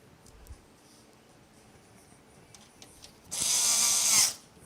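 A power driver whirs loudly for about a second while driving screws into a PC case fan, following quiet small clicks and handling sounds.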